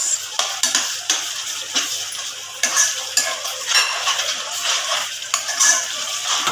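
Butter is stirred into a methi tomato curry in a pan: a spoon scrapes and clinks against the metal over a soft, continuous sizzle, with steady rhythmic stirring and no voices.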